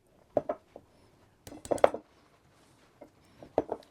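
Icing being stirred with milk in a Pyrex glass jar: a few short bursts of scraping and clinking, close and fairly quiet, separated by brief pauses.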